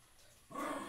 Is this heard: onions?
no